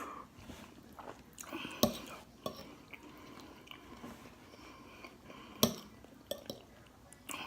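Someone quietly chews and tastes cooked shrimp, with soft bites and mouth sounds broken by a few sharp clinks of cutlery or dishes. A faint whisper-like murmur runs under it.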